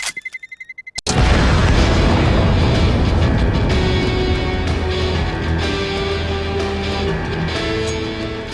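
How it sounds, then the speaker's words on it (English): A flashbang grenade goes off in a shooter video game with a sudden loud blast after a second of rhythmic ticking, then a long ringing, roaring aftermath that stays loud and slowly eases. "I'm throwing a flashbang."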